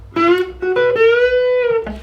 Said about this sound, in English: you would just bend that B string